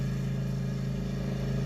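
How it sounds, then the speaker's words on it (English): Road traffic hums past a hillside lookout in Adelaide's northeastern foothills, a steady, faint engine drone with a low tonal hum throughout, no voices. "You will hear a bit of traffic going by"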